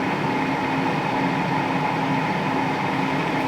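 Steady, even whirring hum of an air fryer set to 180 while it cooks doughnuts, a constant fan drone with a faint tonal buzz and no talking.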